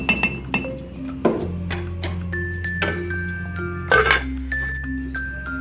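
A metal lid set onto a cooking pot of simmering aloo gajar matar curry, giving a few bright clinks and rattles with ringing tones that linger against a low steady hum.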